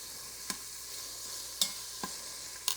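Bacon sizzles in an Instant Pot as the fat renders, a constant bright hiss broken by a few sharp clicks of stirring.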